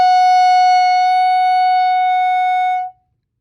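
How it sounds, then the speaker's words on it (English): A clarinet holds a single sustained whole note on F sharp, clear and steady for about three seconds before cutting off cleanly into silence. "so for a whole note for clarinet, it would sound like this."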